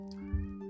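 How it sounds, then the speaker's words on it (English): A house cat gives one short, low meow beneath a steady hum. "Cat's in her mood."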